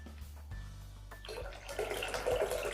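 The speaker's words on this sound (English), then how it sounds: "I'm going to be putting my water in the pot" Water poured into a pot for making Bajan sorrel, a soft low rush that starts with a thump and builds into splashing, sloshing liquid, growing louder toward the end.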